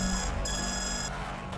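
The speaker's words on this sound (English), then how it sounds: "It's, some sort of alarm, ma'am" An alarm going off during a lockdown in the video game Guard Duty: a steady, high electronic tone with a brief gap, sustained over a low hum.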